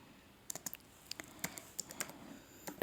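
Quiet typing of image keywords and a description: a short run of soft, separate key taps on a keyboard or phone over a low steady background hiss, with no voices.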